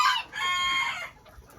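Mini bantam roosters and hens clucking and calling close by in a backyard flock, a single loud, harmonically rich rooster crow followed by a faint fade.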